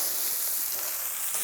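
Steak searing in a pan with seasoned mayonnaise on it, a steady close hiss of frying that runs unbroken and fairly loud with no talk.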